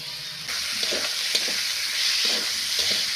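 Dried fish jhura stir-frying in a pan gives a steady, loud hiss of sizzling oil, broken by soft scraping strokes of a spatula every half second or so.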